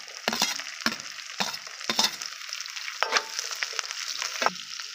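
Green chillies and capsicum fry in a pan with ginger-garlic paste for street-style egg fried rice, sizzling close up with a run of sharp scraping stir strokes roughly every half second over a steady hiss.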